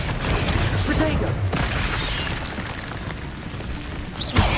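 Spell-casting effects from the video game Hogwarts Legacy: a dense run of booming blasts and crackling impacts, loud and close, with a final sharp burst near the end.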